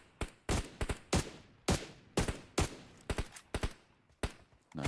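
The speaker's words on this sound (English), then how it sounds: "9Z taking shots out towards Papara Supermassive" Gunfire in PUBG Mobile rings out as a series of sharp, separate shots and short bursts in an irregular rhythm, fairly close and loud, with no voices over them.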